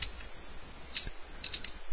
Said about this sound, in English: I'm typing this in without putting any carriage returns in